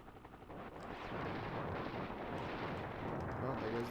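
Sustained rumbling explosion blast from a fuel depot blowing up in Desert Strike: Return to the Gulf on the SNES, a dense roar that swells and holds steady at full loudness.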